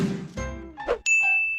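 A phone sounds a short, bright ding for an incoming SMS, clear and close after a few soft handling clunks and tinkles.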